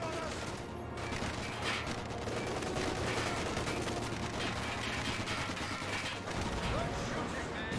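Sustained gunfire from Company of Heroes 2 rattles steadily under a dense battle din, with continuous overlapping shots and mechanical clatter and no clear pauses.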